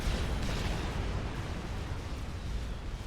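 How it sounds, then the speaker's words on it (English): A unit blows up in the strategy game Supreme Commander: Forged Alliance, a dense, rumbling explosion that swells and holds as a loud, unbroken roar of blast and debris. "Takes down a couple of Percivals with its death explosion and fall damage"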